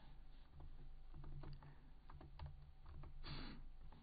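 Code is typed on a computer keyboard in a steady patter of soft, close key clicks over a quiet, hissy background.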